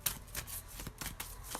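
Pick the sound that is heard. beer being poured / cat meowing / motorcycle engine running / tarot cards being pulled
tarot cards being pulled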